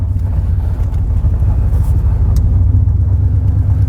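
A GMT400 pickup truck coasting after a front-end rebuild, its engine and road noise forming a steady, loud low rumble that holds evenly throughout without any revving.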